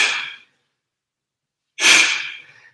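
Heavy, forceful breaths from a person straining through an abdominal workout: one loud exhale trailing off, a pause of near silence, then a second sharp, breathy burst fading slowly, close and with no talking.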